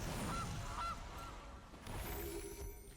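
A cartoonish goose honk sound effect from the MTG Arena digital card game, two or three short nasal honks early on, fairly clear over a busy game soundtrack.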